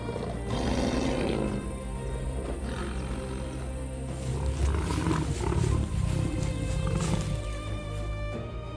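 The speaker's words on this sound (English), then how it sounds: "The lion's roar is a clear declaration of power." An African lion roars loudly and close, deep rumbling bursts repeating in a steady series over a continuous dense rumble, with no voices present.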